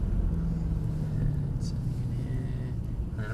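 A Mercedes-AMG car driving laps on a track, its engine giving a steady, fairly loud low rumble throughout, with a voice talking over it.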